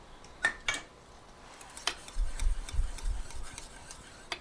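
A spoon scrapes and clinks against a pot while scooping hot gravy for an open-face hot turkey sandwich, with a few sharp metallic taps followed by softer rubbing and stirring in a quiet kitchen.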